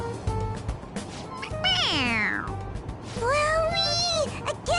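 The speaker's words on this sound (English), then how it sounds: "It meows when you press on its head." A toy cat lets out electronic meows when its head is pressed, two or three drawn-out, pitch-sliding mews standing out clearly over a faint background.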